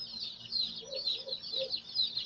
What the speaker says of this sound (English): That's a lot of chirping right there.